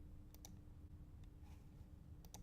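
Mouse clicks on the OK button in Scribus desktop publishing software: two short, crisp clicks near the start and another pair near the end, quiet and close over a low steady hum.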